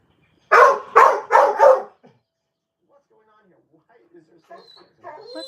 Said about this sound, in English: Why is my dog barking?